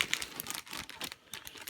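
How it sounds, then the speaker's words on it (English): A plastic bag holding Gundam model kit parts crinkles as it is opened, with rapid, irregular rustles and crackles close by and no one speaking. "Open up trees that usually come in a plastic bag like this, or in other bigger plastic bags"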